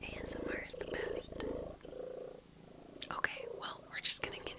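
A cat purrs close by in soft, rhythmic rumbling pulses, heard under whispering with some faint clicks and taps.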